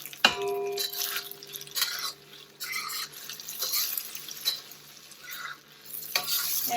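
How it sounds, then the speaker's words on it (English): Tofu fries in oil with a soft, continuous sizzle, joined by faint stirring, clinks and a few brief splashes, all fairly quiet and without talk. "So while I'm waiting for the tofu to fry"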